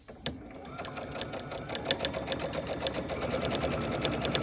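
A sewing machine that threads easily runs steadily under speed control, its needle swinging side to side in a zigzag stitch with a fast, even mechanical patter at close range.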